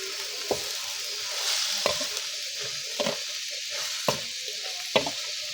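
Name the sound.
stir-frying holy basil with bird meat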